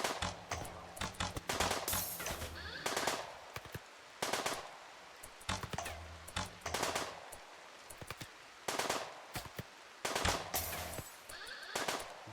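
Video game gunfire from a tribe of shooters, rapid machine-gun bursts and volleys repeating in clusters over a low background, moderately loud with brief pauses between bursts.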